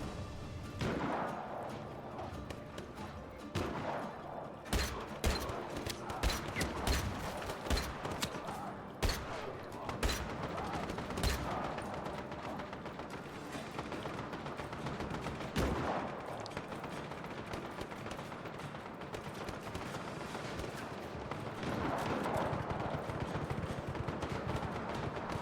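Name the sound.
gunfire from a video game, someone shooting at the player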